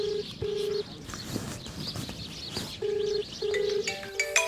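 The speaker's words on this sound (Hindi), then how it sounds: "ये बज रहा है मोबाइल" A mobile phone rings outdoors beside a farm, its electronic tone sounding in repeated steady bursts with short gaps, heard over rustling and background noise, with birds chirping faintly nearby.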